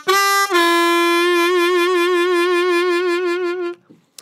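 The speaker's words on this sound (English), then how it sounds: "2 draw whole step bend. And I'm adding some jaw vibrato to that last bend." A blues harmonica holds a 2 draw whole-step bend, with jaw vibrato giving the sustained reedy note a steady wavering pulse. It plays loud and close after a brief opening attack, alone with no voices.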